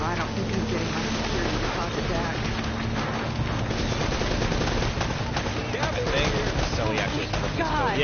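Gunfire in Uncharted, rapid sustained bursts of shots crackling continuously like a hail of bullets, close and steady, with game ambience and speech mixed in.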